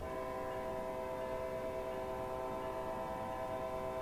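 A big American commuter train in Train Sim World 2, driving into South Attleboro at rush hour: a steady, loud rumble runs under a held, multi-tone horn chord that sounds for the whole stretch, with no talk.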